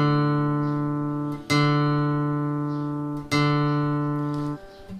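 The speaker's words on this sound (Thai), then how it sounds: "สาย4เสียง D ครับผม" Guitar fourth string plucked on the note D, struck three times in a row with each ring slowly decaying, clear and close with no talking.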